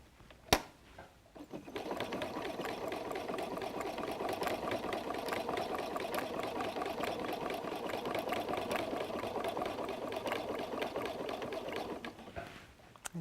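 A sewing machine runs steadily for about ten seconds, stitching back and forth through all the layers of a messenger bag's strap anchor, with a sharp click at the start and the motor winding down at the end.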